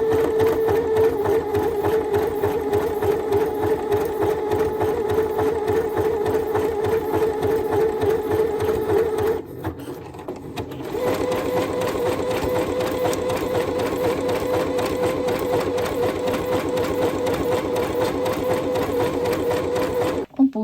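A Necchi HP04 sewing machine runs an overlock stitch in a steady, continuous mechanical whir with rapid needle rhythm. It stops briefly near the middle, then resumes and runs close and loud to the end.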